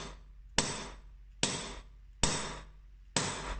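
A hammer strikes metal four times at a steady, even pace to texture the surface, each blow sharp and ringing with a short decay, heard up close without speech.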